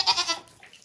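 A goat on a Texas farm gives a single short bleat, close and fairly faint, fading quickly into quiet.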